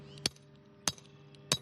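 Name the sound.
hammering flag pins into the ground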